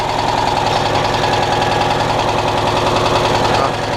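A Citroën Dyane 6 engine idles steadily after tuning, an even, close, rhythmic mechanical putter with a fine regular pulse, holding constant throughout.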